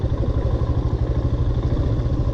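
Royal Enfield Himalayan motorcycle engine chugging steadily and loudly up a slope, a continuous low throbbing with rhythmic pulses and some mechanical clatter, no talking.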